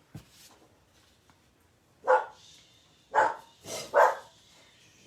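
Several house dogs bark at someone arriving, a run of loud close barks in quick bursts, some overlapping, with softer yips between and no talk.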